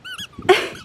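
A pet dog named Wigs gives a high, whiny yelp followed by a single sharp, close bark, all within a split second.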